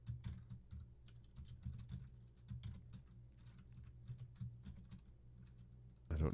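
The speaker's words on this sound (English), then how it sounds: "So I can just type that in." Typing on a computer keyboard: irregular bursts of close, quiet key clicks with short pauses between them, and a low steady hum underneath.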